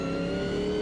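The engine of a Mercedes Sauber C9 Group C race car in the Automobilista 2 racing game drones in a steady, loud, tonal hum at constant revs, alone without voices.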